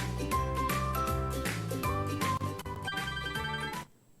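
A bright, melodic ringtone plays on a television call-in line, looping its tinkling musical pattern loudly for several seconds before cutting off abruptly into near silence.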